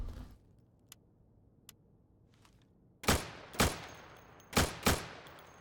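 Gunfire in the Insurgency video game as targets behind plywood are shot: after a few faint clicks, four sharp, loud shots ring out in two quick pairs, each with a short decaying tail.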